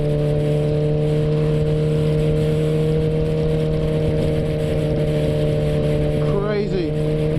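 Steady, loud engine drone from a 2016 Kawasaki ZX14 motorcycle under way, a sustained strong tone with wind noise and a brief pitch rise near the end.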